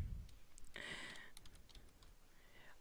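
Quiet clicking of keys on a computer keyboard, a short burst of close, light typing strokes with brief pauses.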